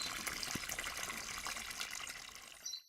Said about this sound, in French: À ce moment-là, on remplit le trou d'eau.